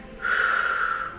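A single drawn-in breath taken during a fitball exercise, close and airy with a steady hiss for about a second, alone without talk.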